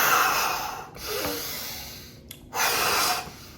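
Heavy breathing after hard running, exhaled through the mouth and drawn in through the nose, in a few loud, close breaths with short pauses between them and no talking.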